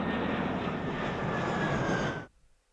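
A propeller airplane engine from Super Mario Sunshine roars steadily and loudly as the plane flies in, holding one sustained drone before cutting off abruptly near the end.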